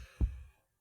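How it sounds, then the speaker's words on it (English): A single dull, low heartbeat thump sounds close and soft in a quiet horror-story scene, trailing off into silence after a brief low rumble. "I can feel my heart pounding against my chest"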